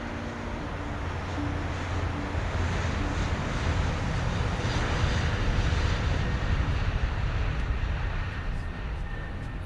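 A steady, droning airplane engine sounding from inside the cabin as a radio-drama effect, a constant low roar that stays level throughout with no voices.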